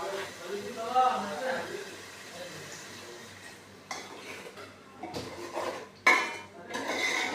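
Pots and metal utensils clatter and scrape in a home kitchen while a mother cooks fish, with uneven knocks and a few sharp clanks, near and fairly loud, and faint voices in the background.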